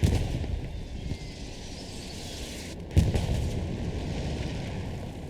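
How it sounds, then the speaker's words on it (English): Artillery shells exploding in the World War II shooter Hell Let Loose: a continuous low rumbling din of distant blasts, with one sharper, nearer boom cutting through about midway, and no voices. "Artillery exploding everywhere"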